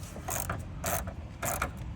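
A 10mm socket ratchet working an intake bolt on a 9th-gen Honda Civic Si, heard as bursts of close metallic clicking and ratcheting separated by short pauses.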